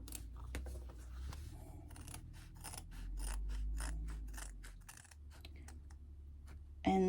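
Scissors snipping through fabric to clip down toward small marked triangles along a seam while sewing a crossbody bag, giving a series of quick sharp cuts over a low steady background hum.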